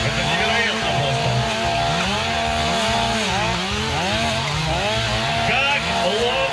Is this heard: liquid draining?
no